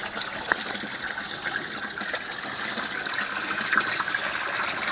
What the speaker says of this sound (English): grow beds will completely drain, my flood beds will drain